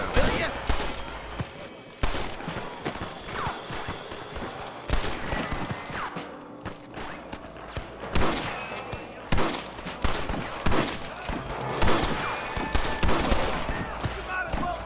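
Rapid gunfire fills a shootout in Red Dead Redemption, with repeated loud shots and bursts that come thick and fast throughout, over a busy background and game voices.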